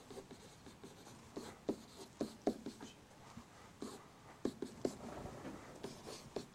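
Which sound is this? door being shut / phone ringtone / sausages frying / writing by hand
writing by hand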